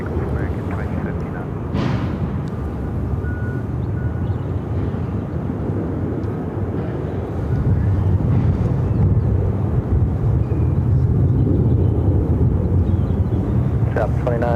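American Airlines jet taking off at Phoenix airport, a broad, rumbling roar that swells louder and deeper partway through, with wind buffeting the mic and a voice speaking under the noise.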